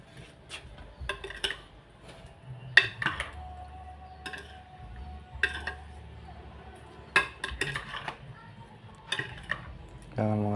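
Metal utensil scraping and clinking against a cooking pot while stirring food, in scattered bursts of sharp clanks, with a low voice talking intermittently underneath.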